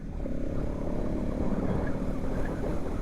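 A Bajaj Pulsar NS 200 facelift motorcycle engine running at low rpm, a smooth, steady, refined hum held close and continuous for the whole stretch with no one talking.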